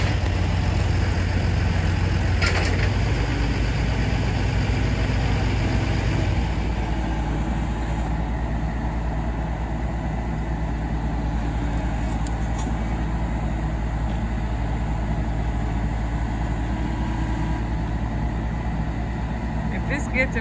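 A Bobcat loader engine runs steadily close by, a constant low diesel drone that rises briefly and then settles into an even idle, with no talking over it.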